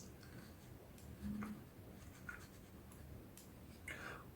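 Marker or chalk writing strokes on a board during a math lesson, short scratchy bursts at intervals, faint and close, with no talk over them.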